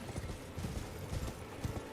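Horse hooves gallop in Elden Ring, a quick, muffled rhythm of thudding beats, faint and steady across the brief moment.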